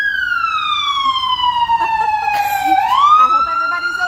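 A loud emergency siren wails outside, its rising and falling tone sweeping down and then climbing again, continuous and close over a few seconds, with faint background noise beneath.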